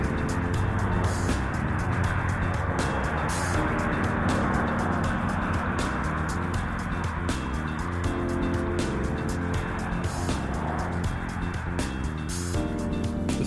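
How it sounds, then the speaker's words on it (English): Steady traffic noise from the highway running beside an RV park near Mesa Verde, a continuous loud wash of passing vehicles with repeated sharper swells, no voices. "it can get noisy because of being right on the highway"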